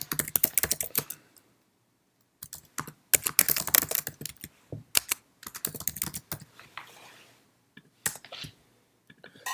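Someone typing an email on a computer keyboard, with rapid bursts of close clicking keystrokes broken by short pauses, and no voices.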